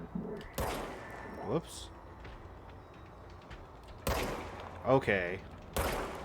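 A few loud, sharp gun bursts from a weapon in the action game Control ring out in separate blasts spaced across the moment, with someone speaking briefly in between.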